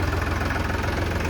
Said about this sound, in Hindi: पहुँच गया ट्रैक्टर अपना यहाँ पे